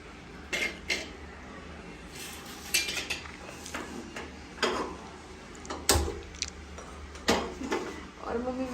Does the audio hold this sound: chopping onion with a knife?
yes